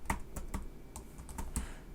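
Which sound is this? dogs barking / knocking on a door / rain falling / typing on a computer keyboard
typing on a computer keyboard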